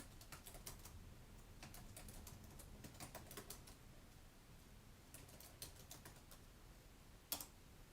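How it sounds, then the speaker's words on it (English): Rapid keyboard typing, soft and distant, with bursts of quick key clicks separated by brief pauses and one sharper tap near the end. "And hopefully I can actually type."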